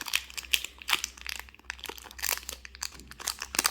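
A Pokémon card booster pack wrapper being torn and crinkled open by hand, close and quiet, a string of irregular crackling rustles and small tearing bursts with no talking.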